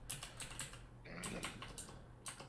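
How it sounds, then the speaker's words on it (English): Typing on a computer keyboard: a quick, irregular run of close, faint key clicks and taps, with a steady low hum underneath. "I'm typing it in"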